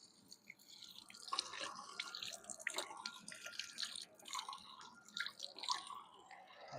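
Water trickles and splashes steadily from an old Roman public drinking fountain, a faint, irregular dripping and spattering outdoors with no voices.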